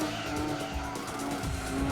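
A GT500 race car in Gran Turismo 2 skids and spins out, tires squealing over a loud, steady engine roar, with the screech wavering throughout.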